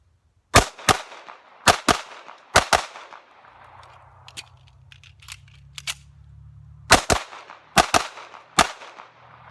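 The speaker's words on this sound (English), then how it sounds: "What I'm going to do is put a double tap on each one of the targets down here" A Remington 1911R1 Enhanced pistol fires sharp double taps, paired cracks spaced a second apart, with a pause in the middle before more pairs ring out outdoors.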